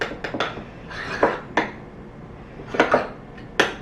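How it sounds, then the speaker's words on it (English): A spoon scraping and clinking against a bowl while coconut yogurt ranch dressing is stirred, several close, sharp taps and scrapes in an irregular rhythm. "I'm just mixing this together"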